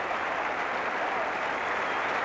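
A cricket crowd at the SCG applauds David Gower's fifty against Australia, a dense, steady wash of clapping and cheering from a large stadium audience.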